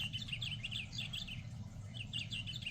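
A squeezed ceramic toy bird gives repeated high, chirpy tweets in quick bursts, close and clear over a faint low background hum.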